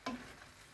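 Spinach sautéing in a little oil in a pan, with a quick stir clatter at the start followed by a soft, low sizzle, no voices.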